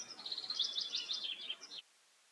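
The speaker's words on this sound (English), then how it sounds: "I just put some little sounds of the birds on" Recorded birdsong plays softly in the background, a continuous stream of bright chirps and tweets from several small birds that stops abruptly near the end, with no one speaking.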